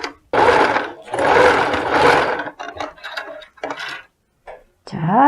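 A sewing machine stitches a crossbody bag slowly, running in short whirring bursts that stop and start in an uneven rhythm, loud and close.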